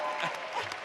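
An event audience applauds an auctioneer with a dense, steady burst of clapping from a crowd that lasts under a second.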